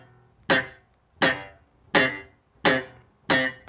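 Five short popped bass guitar notes on the G string at the fifth fret, each a sharp snappy attack that dies away quickly, evenly spaced with brief silences between them.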